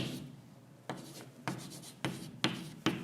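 Chalk strikes and scrapes on a classroom board as a physics teacher writes, five or six distinct taps in an uneven rhythm, close and fairly quiet with no talk.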